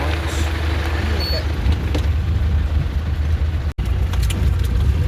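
Off-road vehicle engine running steadily while driving on rough ground, a constant loud low rumble throughout with a momentary dropout near the end; faint talk may sit beneath it.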